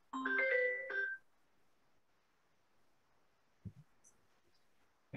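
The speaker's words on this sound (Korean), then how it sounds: "전화가 왔네요" Short, close melodic phone ringtone from an incoming call, a quick burst of electronic tones lasting about a second, followed by quiet room tone and a couple of faint knocks.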